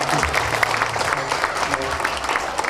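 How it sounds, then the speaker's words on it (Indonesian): Audience at a 2014 farewell ceremony for madrasa pupils claps for the children, a dense, steady wash of many hands sustained throughout at close range. "Mari kita aplaus kepada anak-anak kita ya."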